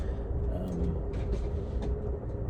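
Steady low rumble and rattle heard from inside a moving train carriage, continuous and moderately quiet, with faint voices in the background.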